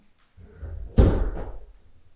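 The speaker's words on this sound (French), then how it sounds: "Non, c'est la porte que je dois fermer." A door slams shut in a small home darkroom, one sharp thud with a brief rattling tail, close and loud, following a few softer handling sounds.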